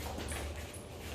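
A dog whimpers softly during an obedience training session, a thin, continuous whine running low and steady through the short stretch, with no talk over it.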